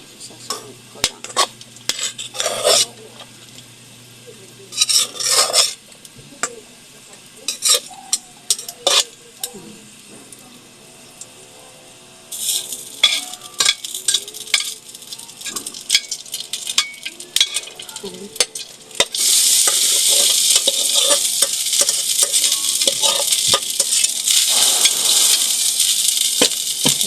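Food stirred and frying in a pan at home, with scraping utensil strokes and clinks of cutlery on cookware coming in bursts, then a loud steady sizzle taking over near the end, close by with no talking.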